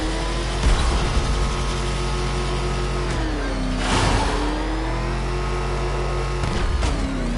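A video game car engine drives hard, its pitch dipping and rising with gear shifts and throttle changes, loud and continuous, with a few brief bursts of clatter layered over the steady roar.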